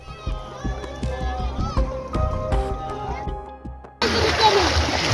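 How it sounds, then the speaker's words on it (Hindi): Children play and splash in Ganges floodwater in a flooded Bihar neighbourhood, with busy sloshing and voices under a steady wash of noise, followed by a sudden louder burst of rushing water. "मोहल्ले के बच्चे बाढ़ के पानी में अटखेलियां करते भी नजर आते हैं"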